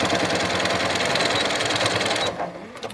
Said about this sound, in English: So I'm going to stitch back a little bit.